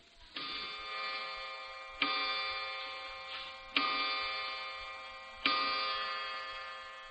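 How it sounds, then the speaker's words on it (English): A clock striking as a radio quiz sound effect: four slow, evenly spaced bell-like chimes, each ringing out clearly and fading before the next. "Clock striking."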